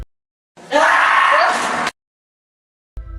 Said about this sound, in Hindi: आखिर क्या दर्द, क्या पीड़ा थी कि ये ममी एक स्क्रीमिंग ममी बन गई थी?